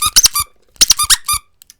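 A small lobster-shaped squeaky dog toy named Squeaks gives several sharp, high-pitched squeaks in two quick clusters, close and loud, with brief silence between them and a couple of faint ticks at the end.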